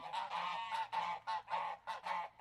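A flock of geese honking loudly and close by, a rapid run of about eight harsh, nasal calls in quick succession with no speech.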